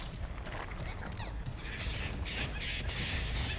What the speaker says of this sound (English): Excuse me, birds.